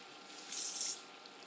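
A sink tap runs as a fried apple is rinsed under it, giving a faint steady trickle that swells into a brighter, hissing spray for about half a second before settling back down.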